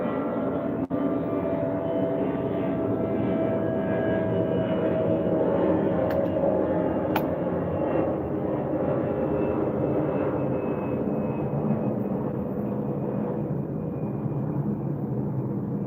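A steady, loud droning rumble of an airplane passing overhead, sustained throughout with a broad low roar and faint engine tones, a couple of small clicks in the foreground.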